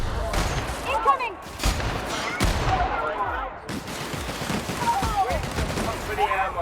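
Sustained gunfire in The Outer Worlds video game, dense bursts of shots and fusillades rattling one after another at close range, with voices calling out over the firefight.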